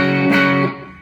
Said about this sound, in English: Gets a nice crunchy F sharp, but it doesn't get too muddy